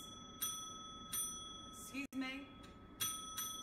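A bicycle-style bell rings several times in sharp, bright dings spaced about half a second or more apart, each with a lingering tone, under a steady electronic hum and a brief spoken remark.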